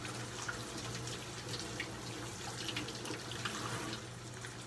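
A kitchen tap runs in a steady, continuous stream during handwashing, with a low hum underneath and faint splashing against the sink throughout.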